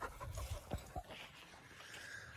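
Cooper the dog pants quickly on a walk outdoors, close and soft, with a faint whimpering note and light background noise.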